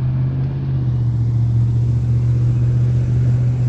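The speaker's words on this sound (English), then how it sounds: "That white truck that went by, that's the Tasty Freeze drive-in truck" A white Tasty Freeze drive-in truck drives past on a road near a trail crossing, a steady close engine rumble with a constant low hum, loud throughout.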